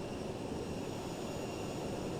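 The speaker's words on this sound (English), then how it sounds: "I'm hearing a plane." An airliner in Microsoft Flight Simulator gives off a steady, broadband engine roar with a faint high whine, constant and unbroken throughout, with no voices.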